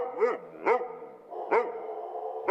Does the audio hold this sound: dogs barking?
yes